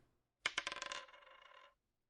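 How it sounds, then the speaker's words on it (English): A ten-sided die clatters onto a hard surface, a sharp initial strike followed by a quick run of rattling bounces and a brief ringing settle, close and clear with no talk. "roll a d10"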